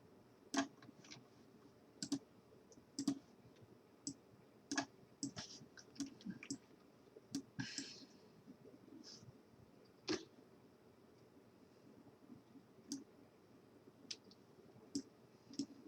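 Sharp mouse clicks while editing in the Unreal Development Kit, singles and quick doubles spaced irregularly over faint room hum, fairly close and crisp with no talking.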